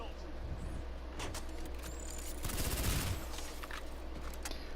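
Jackal gun in a video game firing a rapid burst of rounds amid steady game background noise, the shots clustered near the middle of the moment.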